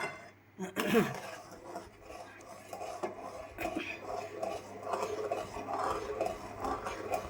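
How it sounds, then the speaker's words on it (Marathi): A spoon scrapes and clinks against a pan while semolina (rava) is stirred continuously, with a sharp metallic knock near the start and a voice talking over the stirring. "जर खाली लागला तर मग त्याचा वेगळा असा वास येतो, म्हणून सतत असं ढवळत राहायचं आहे"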